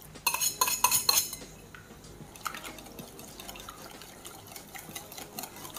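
Ricotta spooned into a bowl of beaten eggs and cream, with bright clinking utensil scrapes and a few wet plops close up at first, then fainter stirring and light taps alone.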